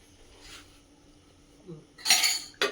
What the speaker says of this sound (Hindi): इतना मैं मांझ लूँ एक बार बर्तन